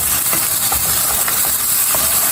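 Onion and tomato sizzle loudly in a pan for chicken masala, a steady close hiss of frying with faint crackles throughout.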